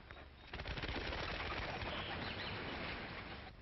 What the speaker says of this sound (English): Pauline was my head performing pigeon.